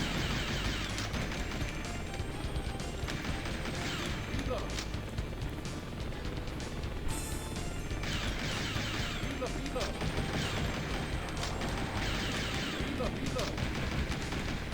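Rapid gunfire from the Sega Saturn light-gun game Virtua Cop rattles continuously in dense bursts with explosions mixed in, under a busy, steady game soundtrack.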